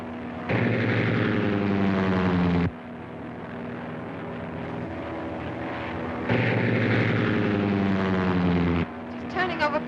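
Propeller engine of a small 1930s airplane droning loudly in flight, its steady harmonic roar surging in two louder bursts as the throttle is pushed open, with a brief rattle near the end.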